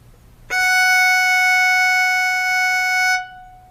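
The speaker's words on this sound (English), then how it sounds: "When you put your first finger on the E string, you're playing an F sharp on the staff" A single sustained violin note, F sharp fingered with the first finger on the E string, sounding steady and bright for about two and a half seconds after a sharp onset, then stopping cleanly.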